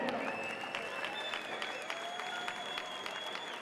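Crowd applauding after a grappling match, steady dense clapping at moderate distance that holds evenly throughout, with a loudspeaker voice ringing over it.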